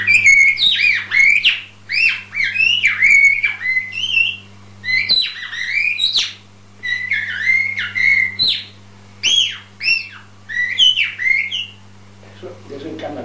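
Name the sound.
bird-call decoy whistle imitating a blackbird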